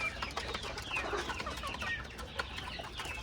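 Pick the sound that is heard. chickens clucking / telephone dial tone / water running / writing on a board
chickens clucking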